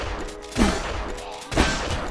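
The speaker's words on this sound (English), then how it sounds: "whenever I see a zombie like that, I just take him out with the shotgun" Two heavy shotgun blasts go off about a second apart while fighting zombies in the video game Zompiercer, each a loud booming burst over a constant background of game ambience.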